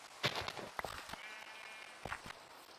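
A few short bleats from sheep on a Minecraft farm, scattered among soft footsteps and clicks, moderately quiet with gaps between calls.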